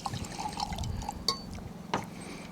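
Jimmy Red liquor poured from a bottle into a glass, a close, soft liquid trickle with a couple of small clinks and a few quiet murmurs from people nearby.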